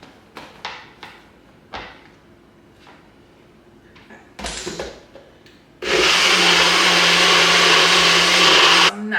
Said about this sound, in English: I'm gonna go ahead and blend this again.